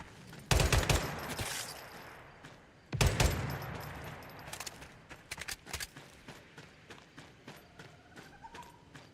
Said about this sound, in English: Gun shooting.